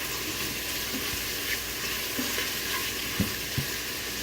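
Jambalaya ingredients sear in a quick cooker with a steady, loud sizzle, punctuated by a few faint clicks and scrapes of stirring.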